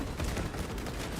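Gunfire in Space Marine during a fight against Tyranids: a brief, dense burst of rapid, continuous shooting, loud and close, with no gaps between shots.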